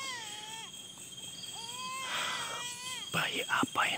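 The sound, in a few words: baby crying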